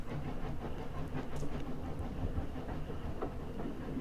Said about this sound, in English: is this train going to Moscow?